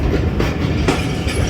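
The 128 Down Mehar Express passenger train rolls into Mehmood Kot railway station in the morning, loud and close, with a rhythmic clickety-clack of wheels over rail joints.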